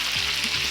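Sliced potatoes, precooked in a microwave, fry with salmon in a pan, giving a steady bright sizzle with soft stirring scrapes underneath.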